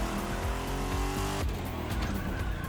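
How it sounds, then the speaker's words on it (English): A Shelby Cobra sports car in The Crew Motorfest racing game, a loud engine growl with tire squeal and skidding that shifts abruptly partway through, with no voices. "Just that growl of that engine, that superb sports car look and feel and action"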